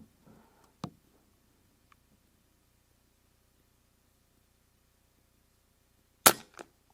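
An Avenge-X Classic .177 air rifle fires a single sharp crack with a brief ringing tail, heard alone after near-silence, preceded by a few faint clicks and handling taps.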